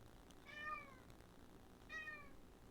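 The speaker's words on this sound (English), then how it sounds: "There's a cat up in that mountain." A cat gives two drawn-out meows, spaced about a second and a half apart, faint and distant over a quiet background.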